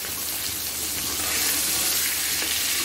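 Hilsa fish pieces lightly fry in hot oil for a Bengali fish curry, a steady, close hiss of sizzling with faint crackles throughout.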